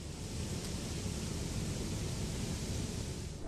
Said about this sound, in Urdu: ہوا کا چلنے کی آواز